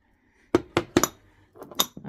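A glass jar from a mood diffuser set, filled with pink calcite stones, handled on a surface: several sharp clinks and light knocks in quick succession, close and clear against near silence.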